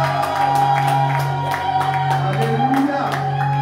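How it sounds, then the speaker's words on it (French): Church congregation shouting and whooping with joy during worship, a loud crowd of overlapping cries and bursts over sustained music tones, continuous throughout. "Alors pousse des cris de joie plus fort que ça."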